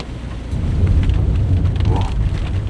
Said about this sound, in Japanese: 残念ながら雨です